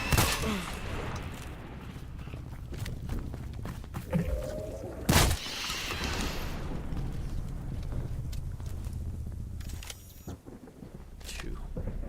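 Shotgun blasts in a first-person shooter game, several sharp loud reports spaced irregularly, one especially heavy near the middle, over a busy game soundscape with a voice talking now and then.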